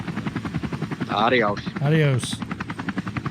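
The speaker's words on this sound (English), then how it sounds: "Muggy's helicopter's about ready to run out of gas" Radio traffic reporter's helicopter with a rapid, steady rotor chop pulsing close and loud through the whole stretch, while a voice speaks briefly over it.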